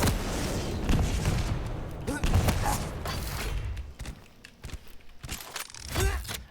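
Heavy machine gun fire in a competitive multiplayer shooter duel, loud bursts of rapid gunfire and impacts layered with explosions and clattering effects, while a voice talks over the action.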